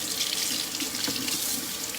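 Tap water runs steadily into a sink as something is washed off, a continuous close hiss and splash with no voices over it.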